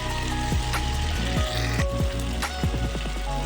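Chopped egg white with spices fries in a pan, a dense steady sizzle close by, punctuated by several sharp scraping strokes of stirring and no talking.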